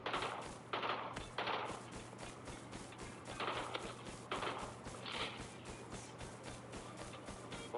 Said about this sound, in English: That's interesting shooting.